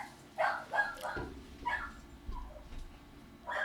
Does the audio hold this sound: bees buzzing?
no